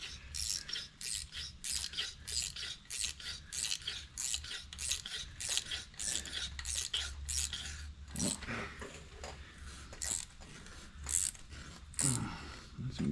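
A thread tap turned by a small wrench, cutting threads during a G900 axle and brake pinion seal job: a steady series of rapid rasping, clicking strokes close to the mic, continuing for many seconds with no speech.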